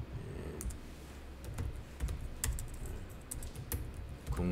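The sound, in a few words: typing on a computer keyboard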